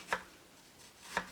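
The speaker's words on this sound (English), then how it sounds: "And then what you do, you just cut around the core" A knife slices through fruit around the core, two short crisp cuts about a second apart, close and fairly quiet with no talking.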